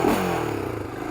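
A motorcycle with a rusty stock exhaust idles close by with a throaty, droning engine note that sags slightly in pitch, joined by a light rattling clatter and no speech.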